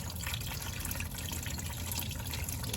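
Coolant drains from a 2001-2005 Toyota RAV4 radiator during a water pump replacement, pouring in a steady, noisy liquid stream with splashing and trickling close by throughout.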